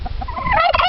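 A voice imitates a turkey gobble in one short, loud, warbling burst of about a second, close to the mic and heard alone.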